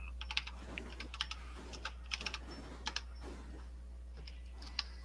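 Steady, brisk keystrokes on a computer keyboard, close and fairly faint, a run of irregular clicks over a low constant hum with no talking.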